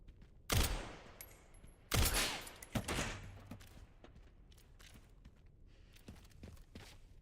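Video game gunfire: two loud close shots or bursts in quick succession, a sharper crack after, then scattered fainter pops and clatter trailing off, with no talk.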